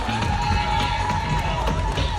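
A lively crowd at a Phoenix Wrestling anniversary show in Cork cheering: a continuous, moderately loud wash of crowd noise with a sustained tone running through it.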